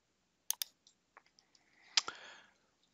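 A few sharp, faint mouse clicks on a software button in a quiet room, brief isolated taps followed by a short soft rustle.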